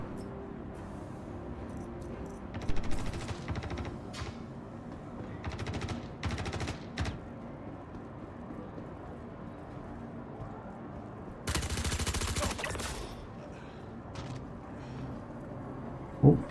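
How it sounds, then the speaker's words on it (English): Shotgun fire in a video game comes in scattered bursts of sharp blasts, one long dense volley near the middle and others spread across the stretch, over a quiet low background hum. "That's a shotgun."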